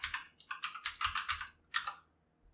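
Rapid typing on a computer keyboard while building a Laravel ecommerce registration page: a quick run of crisp, close key clicks, then a brief pause and one last short burst.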